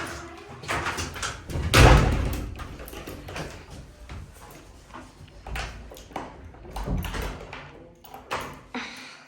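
An interior door swings shut with one loud thud near the start, followed by softer bumps, footsteps and handling noises at close range in a building in Austria.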